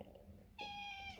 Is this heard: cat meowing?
yes